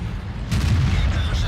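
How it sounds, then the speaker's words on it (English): Tiger II tank cannon firing in World of Tanks, a sudden loud blast that jumps in halfway through and rolls on as a broad rumbling boom with sustained low-end roar. "so I get a rear shot on him"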